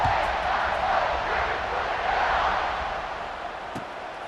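Stadium crowd in EA Sports College Football 26, a loud, full roar of cheering that peaks early, then slowly fades toward the end.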